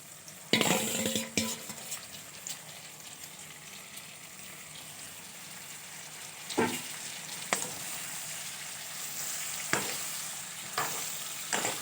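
Chopped tomatoes go into a pork and potato curry in a hot pan, a soft steady sizzle with a few sharp clanks and scrapes of a spoon stirring against the pot.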